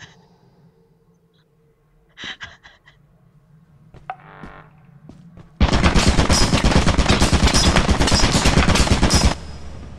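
Gunfire shooting through a wall in the video game Lethal Company: a few scattered shots, then a long, loud, rapid automatic burst lasting several seconds before cutting off abruptly.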